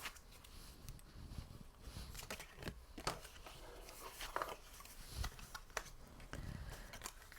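Paper being creased and folded by hand for a scrapbooking box, with soft crinkling, rustling and sharp pressing sounds in irregular bursts, close and fairly quiet.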